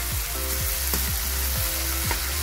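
Chillies fry in a pan with a steady, dense sizzle, and a low rhythmic scraping or stirring recurs about every half second beneath it, close and continuous with no voices.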